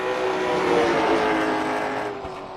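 A pavement late model race car laps USA Speedway with a loud, close, steady engine roar that shifts in pitch as it goes by, then fades slightly at the end. No voices are heard.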